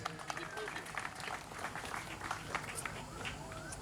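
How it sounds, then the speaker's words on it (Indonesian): A crowd applauds at a government ceremony in South Manokwari, Indonesia, a dense, steady patter of many hands clapping that continues unbroken, with voices and background chatter mixed in. "Sekali lagi kita beri aplaus yang meriah."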